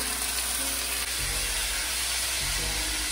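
Sixteen ounces of shrimp hit a hot pan of golden, softened onions, giving a loud, steady broadband sizzle and hiss that fills the whole stretch without a break.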